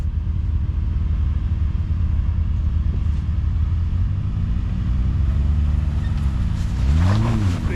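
Off-road vehicle engine running in low range, a heavy steady rumble close by that rises in pitch near the end as the revs climb, with no voices.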